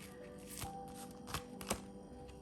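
Tarot cards shuffled by hand up close, a soft steady riffling texture broken by a few sharper slaps and snaps as the deck is handled, with no talking.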